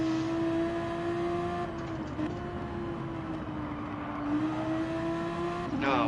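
A car engine holds a steady high drone in one gear, then shifts and climbs again as it revs out through the gears, loud and close with no talking.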